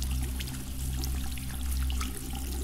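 Decontamination shower in the Among Us Airship map, a steady close hiss of running water over a low hum, continuous with no talk.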